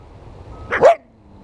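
A trapped animal caught in a freshly set trap gives one short, yelping bark-like call. It sounds fairly close and stands alone against a quiet outdoor background.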